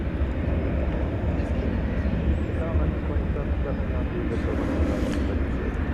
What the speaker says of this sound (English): American 2707 to Austin, Texas is rolling now. It's a 737-800.